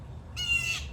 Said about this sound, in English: Oh, shut up, that bird.